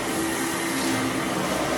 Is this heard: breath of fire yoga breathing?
no